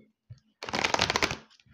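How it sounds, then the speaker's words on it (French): A deck of oracle of dreams cards is shuffled once at close range in a quick riffling burst lasting under a second. Quiet pauses and faint handling noises fall before and after it, with no voices. "je vais prendre une petite carte de l'oracle des rêves"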